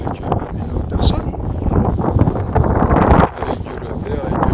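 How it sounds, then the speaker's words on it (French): Strong wind blowing outdoors, a steady roaring buffet across the microphone that swells and dips over several seconds, with a faint voice underneath. "Il y a pas mal de vent là."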